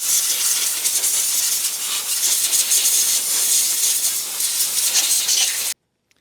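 Compressed air blasts dirt off the engine of a Honda FourTrax 300 ATV, a loud, steady hiss close by that runs unbroken for several seconds, then cuts off abruptly.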